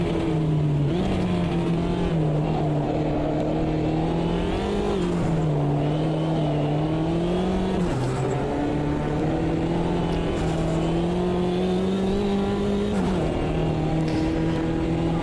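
Mini race car engine in the Automobilista 2 sim, droning steadily and loud with pitch dips as it shifts down through gears, continuous throughout with no voices.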